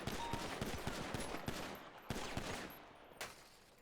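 Several gunshots fired at a shooting range in the video game GTA, a quick run of sharp cracks followed by a few spaced single shots, loud and close.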